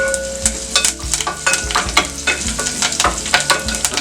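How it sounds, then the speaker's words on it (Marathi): Onions and curry leaves sizzle in a hot pan for a Malvani fish curry, a bright crackling fry broken by regular scraping stirs at roughly half-second intervals, close and fairly loud. "कांद्याबरोबर थोडेसे कढीपत्त्याची पानं घालतोय."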